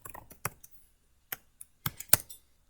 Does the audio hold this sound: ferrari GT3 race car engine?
no